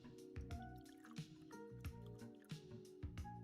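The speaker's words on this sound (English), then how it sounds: "I don't know if you heard that, but I poured some more tea" French Earl Grey tea poured into a cup, heard as a quiet, close series of distinct liquid drips and splashes, about one every half second.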